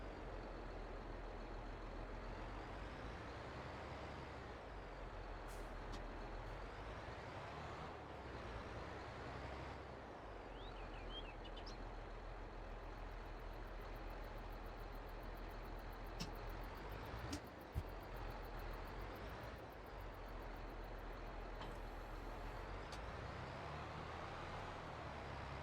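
A truck in a farming video game moves a trailer, giving a steady, continuous engine drone across the whole stretch with a few faint clunks and brief higher noises, and no speech.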